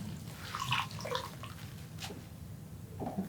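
Warm water is poured and splashed over wet felting wool, producing irregular trickles and drips at close range, with no talking.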